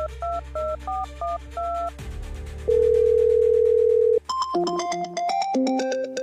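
A telephone call being placed to a number: short repeated beeps, then a loud steady dial tone lasting about a second and a half, followed by brighter chiming ringback tones, with no voices.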